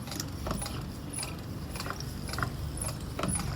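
Hand-pumped spray bottle misting a houseplant during a daily plant care routine, giving several short, soft pumping and spritzing bursts at a steady rhythm, close and quiet, with no talk.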